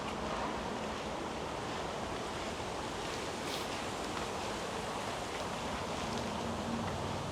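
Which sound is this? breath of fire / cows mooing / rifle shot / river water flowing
river water flowing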